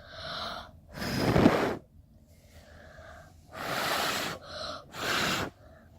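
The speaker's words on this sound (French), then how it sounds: "Regardez, on souffle sur elle." Someone blows air onto a LOL Under Wraps doll after dipping it in water, four strong close breathy puffs separated by short pauses, with faint voice-like sounds between them.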